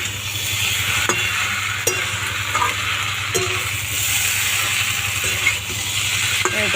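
Fried eggplant and pointed gourd being stirred together in a pan, a steady sizzle with a low rhythmic rumble beneath and sharp scraping clinks of the spatula every second or so, loud and close, no voices.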